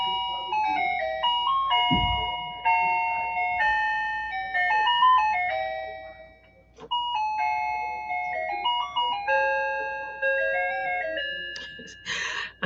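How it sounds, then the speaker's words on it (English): A bright electronic chime tune, like an ice cream truck melody, playing a continuous sequence of clear ringing notes at steady volume, with a brief low thump near the start and no one talking. "I never fail to start talking when this thing starts chiming"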